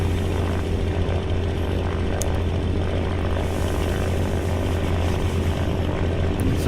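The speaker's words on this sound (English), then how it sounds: "my engine is definitely yelling at me now" Steady, loud drone of a propeller aircraft engine in the Aces of Thunder flight game, continuous and unbroken throughout with a deep hum and no voices.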